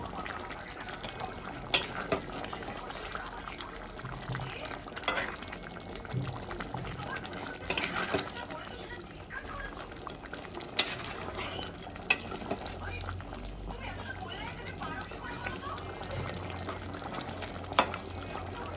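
A pot of fish curry gravy bubbles away on the stove, with a low steady simmer, occasional stirring scrapes and light clinks, and faint background voices.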